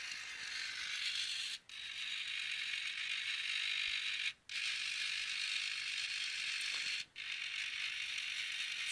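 Small servo gears driven by an Arduino Mega sweep back and forth through about 180 degrees, making a continuous close whirring buzz broken by three brief pauses where the direction reverses.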